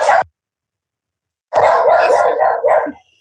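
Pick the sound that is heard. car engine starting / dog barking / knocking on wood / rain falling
dog barking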